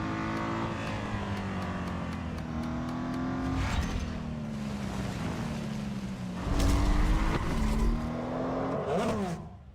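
The BMW M Hybrid V8 race car in a racing video game howls through its gears, the engine note climbing and dropping with each upshift, with a louder surge of revving late on and no talk.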